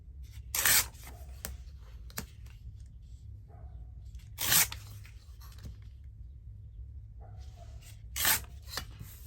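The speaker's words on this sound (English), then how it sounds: "Let me just tear this one down. I think I'll tear it rather than fussy cut it." Paper page from a book torn by hand during a crafting session, three distinct ripping bursts spaced a few seconds apart, close and fairly loud against a quiet room with faint handling sounds between.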